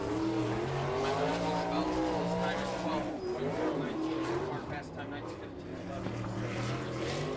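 A non-wing 305 sprint car screams around Fremont Speedway, its engine note steady and droning with rising and falling pitch, while an announcer talks over the racing.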